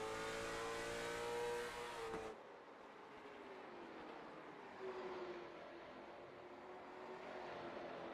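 Race cars running together around Martinsville Speedway, a steady mid-distance engine drone with a sharp cut after two seconds and a rising surge near five seconds, no talking.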